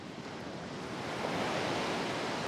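Ocean waves wash onto the shore at Monastery Beach, a California dive site, as a steady, loud roar of surf that builds slightly over a couple of seconds with no voices.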